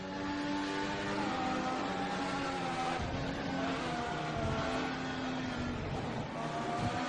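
An F1 race car engine from the F1 2014 video game holds a steady, loud drone the whole time, its pitch sliding up and down as the car lifts off and accelerates through a section of esses.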